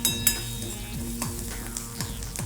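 Onions fry in oil in a pan for egg paratha, a quiet steady sizzle with occasional soft stirring scrapes and a faint hum beneath.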